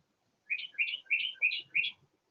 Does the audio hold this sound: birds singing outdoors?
yes